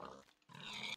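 A pig in a Minecraft-style video game gives two quick, close grunting oinks, a short one and then a longer one, with nothing else around them.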